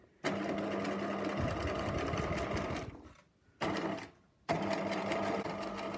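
A sewing machine runs loud and steady while stitching a channel in fabric for elasticated gathers, pausing briefly twice before starting up again.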